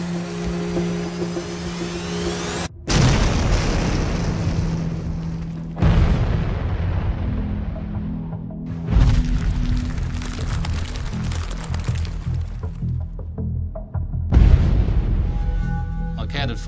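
Four deep underground blasting explosions in an old opal mine, each a heavy boom that rumbles and decays, spaced a few seconds apart amid steady machinery hum.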